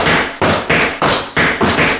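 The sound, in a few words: kicking a door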